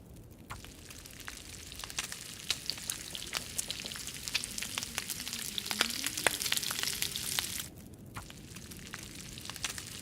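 Meat frying over a fire in the survival video game The Long Dark, a steady close crackling sizzle with scattered sharp pops running throughout, no voices.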